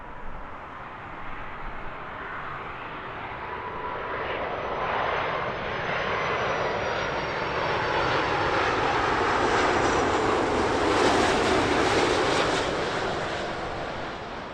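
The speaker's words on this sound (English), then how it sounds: "Safely down for the A330" An Airbus A330-200 airliner lands at Heathrow at sunrise, a loud, steady engine roar that swells gradually and holds throughout, heard from nearby on the ground with no talk.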